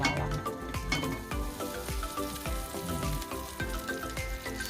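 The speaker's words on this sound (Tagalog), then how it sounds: "Kaya yung ating mantikilya or butter guys. Yun ang igigisa natin sa bawang." Butter sizzles and fries with garlic in a pan for spaghetti with butter, bacon and garlic, a steady close crackle broken by repeated clinks and scrapes of a utensil stirring against the pan.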